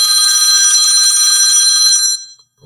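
A phone rings loud and near with a bright, buzzing trill for about two seconds, then cuts off into silence, with no one talking.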